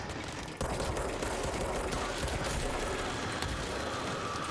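Dense, continuous gunfire from the video game Control, a loud sustained barrage of rapid shots with a sharp jump in intensity early on, filling the whole stretch without pause.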